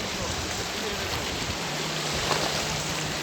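Fast, dangerous current of the Indus River rushing past a levee, a dense, steady hiss and wash of water close by, constant and loud, with no clear speech.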